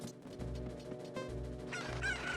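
Video-game chickens cluck and let out a brief crowing call over continuous background game music, the bird sounds fairly close and lively, getting busier toward the end.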